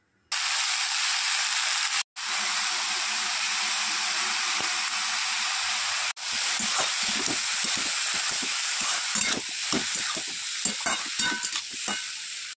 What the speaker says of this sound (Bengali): ওখানে ফোড়নটা গরম হয়ে গেছে, এবারে এই চিচিঙ্গাগুলো ছেড়ে দেব।